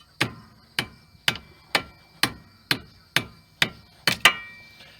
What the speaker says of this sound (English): I want to beat on that pretty good. Get it to pop out of there.